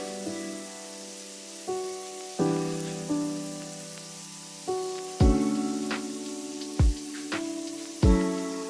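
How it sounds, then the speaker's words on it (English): A mackerel patty dropped into hot cooking oil in a pan, giving a steady close sizzle with several sharp crackling bursts and spatters over the frying hiss. "it's time to fry these. In a hot pan, I added cooking oil. In goes the mackerel patty."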